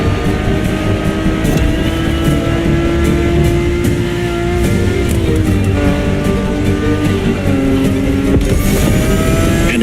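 Race car engine in The Crew Motorfest, a loud sustained roar heard from inside the carbon fiber monocoque car, pitch climbing and shifting through gears with a final sharp rev, alone.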